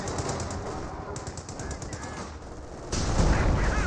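Rapid rifle and machine gun fire crackles in a Company of Heroes 2 battle, with dense overlapping bursts and sharp shots throughout, growing louder and heavier toward the end.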